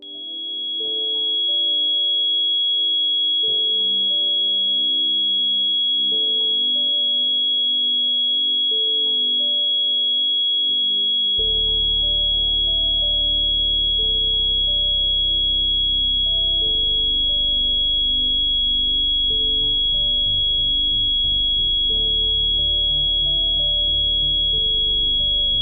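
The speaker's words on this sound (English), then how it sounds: "What this sound of frequency does is, it strengthens your 5 senses" A steady high pure tone meant as a focus frequency holds throughout, with layered electronic drones and low pulsing synth notes shifting beneath it, loud and continuous, with nobody talking.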